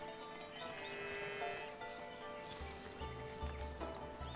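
Cows on a dairy farm in the medieval city-building game Foundation: low lowing calls rise under a busy ambient farm bed with bleats and soft hoof clatter, moderately quiet.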